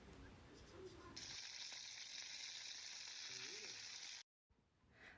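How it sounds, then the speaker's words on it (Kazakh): Pirozhki fry in hot oil with a loud, steady hiss and crackle that runs unbroken for several seconds, cuts out briefly, then resumes more softly, with faint background murmuring before it starts. "Дайын болған пирожкиларымызды қызып тұрған майға осылайынан 2 жағын"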